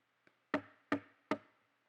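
Three firm knocks on a door, evenly spaced and close, preceded by one faint tap, each a sharp rap with a short ring-out, alone in quiet.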